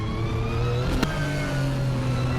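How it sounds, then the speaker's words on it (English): A car engine in the racing video game Assetto Corsa holding a steady high-pitched drone, with a brief sharp shift or click in the middle before the tone settles slightly lower and continues. "that engine sound really is very, very good"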